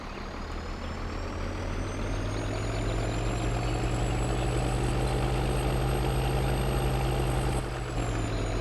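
Truck engine idling in Farming Simulator 2013, a steady heavy low rumble with a constant high whine above it, loud and continuous, dropping slightly in pitch near the end.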